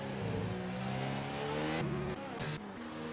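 Formula 1 car on a flying lap in the racing game F1 2019, a loud, continuous high-revving engine whine with steady harmonic tones and brief gear-shift drops, sustained throughout.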